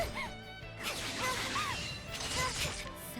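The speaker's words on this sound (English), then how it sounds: "Can I beat Fen just by smashing his head in with my book?" Book smashed against an enemy's head in the video game Octopath Traveler 0: a few whacking, crashing hits and swishes layered over busy battle music, no talking.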